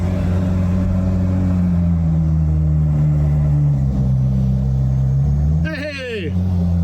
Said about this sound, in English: First time driving the car, and he's gonna crash it right into a wall.